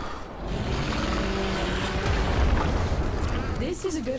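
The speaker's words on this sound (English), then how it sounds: "There should be useful detritus falling from the explosion." A rumbling explosion in the video game Warframe rolls on for several seconds as a loud, broad boom under other game sounds, with a voice present in the mix.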